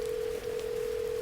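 A telephone tone sounds as a sound effect in a spoken ghost story: one steady mid-pitched tone running almost the full second, with a tiny break near the start, and no voices.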